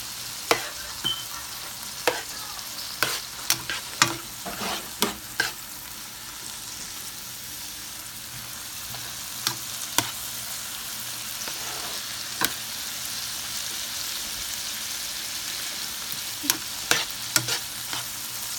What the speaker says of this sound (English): We're going to go ahead and add the sun-dried tomatoes.